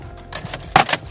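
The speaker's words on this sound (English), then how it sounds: "Let me put my keys in" Car keys for an MK5 Volkswagen Rabbit jangle close up as they go into the ignition, a quick bright metallic rattle in two short bursts.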